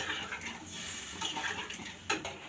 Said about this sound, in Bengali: এর মধ্যে এড করছি জলটা, আর একটু জল দিলাম।